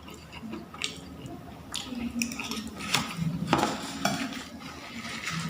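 Cutlery scrapes and clinks against a dish as wasabi fried rice is mixed, with soft squishy stirring and irregular metallic taps at close range, and a voice talking in the background.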